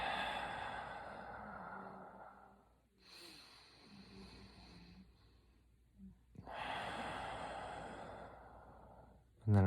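Long, slow exhalations during a breathing exercise, close and soft with an airy rush that fades between breaths, and no talking.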